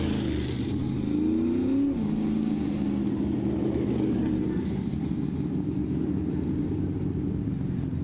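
A dirt track race car engine at a speedway fires up and settles into a steady, loud low rumble with a brief rising rev near the start, close and continuous.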